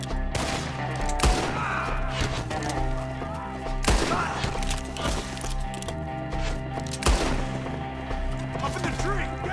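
Gunfire crackles through a shootout in Red Dead Redemption 2, several loud sharp shots and bursts ringing out at irregular intervals over a continuous background of game music and ambience.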